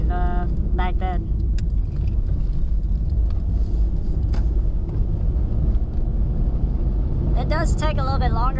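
A 2003 Toyota RAV4 with a four-speed automatic drives along with a steady, loud interior road rumble and engine drone, while a voice talks briefly at the start and near the end.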